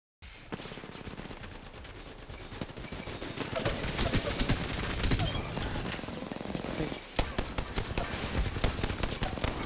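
Video game gunfire fills the scene with sustained, loud automatic bursts and scattered single shots, almost without a break.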